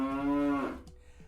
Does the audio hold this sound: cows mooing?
yes